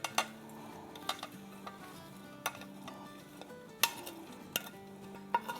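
Chopped coriander, mint and green and red chillies being mixed in a bowl: soft stirring and scraping with scattered utensil clinks and taps against the bowl, fairly quiet and close, no talking.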